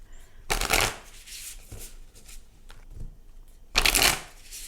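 A deck of animal spirit cards being shuffled, with two loud riffling bursts near the start and end separated by softer card handling and faint rustles.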